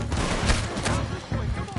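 Dense, loud gunfire from the video game Red Dead Redemption 2 fills the short burst, with rapid overlapping shots and crackling reports and a voice mixed in underneath.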